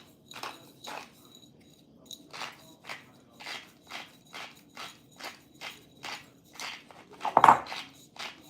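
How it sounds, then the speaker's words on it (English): Rhythmic crunching turns of a pepper grinder cracking lemon pepper, a regular series of short bursts about half a second apart, close and fairly quiet, with one louder clack near the end. "Let me grind it so I know how much we have."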